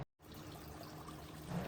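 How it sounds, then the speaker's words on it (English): Overhead watering of succulent soil: a steady pour of water splashing and trickling into a potting mix, close and continuous after a brief silent start, growing slightly louder toward the end. "First is the overhead watering,"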